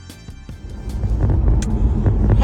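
A car driving home on a weekend morning: a low engine and road rumble that starts with a few sparse thumps, then builds into a steady, close drone in the cabin, with no speech.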